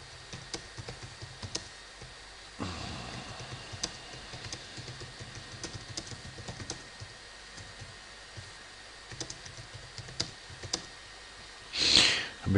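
Keys tapped on a computer keyboard while typing a message, a quiet irregular run of light clicks over faint room noise, with a brief rushing burst near the end.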